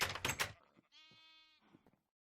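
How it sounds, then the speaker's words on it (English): A sheep bleats in a Minecraft world running the Botania Garden of Glass modpack: one drawn-out, nasal bleat in the middle, preceded by loud scuffing bursts and followed by faint clicks. "So we've got an extra sheep there now."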